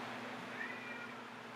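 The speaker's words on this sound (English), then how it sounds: "There's cats outside." A cat meows outdoors, one faint drawn-out call rising and falling over a steady low hum, with no voices.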